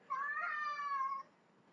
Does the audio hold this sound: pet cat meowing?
yes